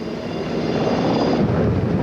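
Medevac helicopters ferry wounded casualties from the Gulf War front line in February 1991, producing a loud, continuous broadband rotor and engine roar that holds steady throughout.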